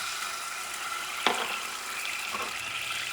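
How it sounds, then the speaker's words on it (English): Mirin poured into a hot pan while cooking wagyu beef ramen, giving a brief splash and sizzle against a steady background hiss of the pan. "And I'm going to add the mirin, M-I-R-I-N,"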